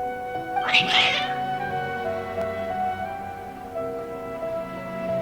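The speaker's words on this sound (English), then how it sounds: "Your cats seem pretty worked up." Cats meowing in the video game Genshin Impact: a short, clear meow cluster rises near the start, then fades into a steady ambient game background.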